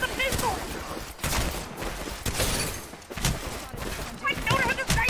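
Rapid video-game gunfire crackles in dense bursts with a few heavier booms, under excited talk from players.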